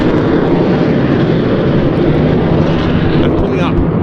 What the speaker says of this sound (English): but engaging afterburner